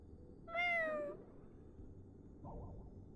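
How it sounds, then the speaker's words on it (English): A cat in the video game Honkai Star Rail lets out a single drawn-out, rising-and-falling meow, followed by a faint, soft sound a moment later. "It's a cat."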